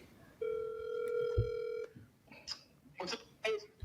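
Steady electronic phone ring tone from a mobile handset as a call comes in, a sustained bright tone for about a second and a half, followed by people talking nearby.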